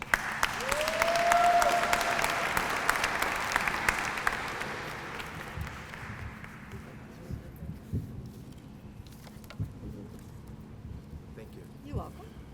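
Applause from an audience at a Women's History Month closing ceremony swells quickly, holds as a dense clapping roar, then thins into scattered claps and fades over several seconds.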